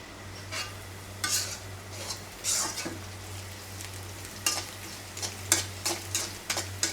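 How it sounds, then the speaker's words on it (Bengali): Hand-cut greens (saag) sizzle steadily as they are stir-fried in a pan. Frequent scraping stirs and light utensil clicks sit over the frying, with a low constant hum beneath. "এই যে সুন্দর করে শাক ভাজি করছি"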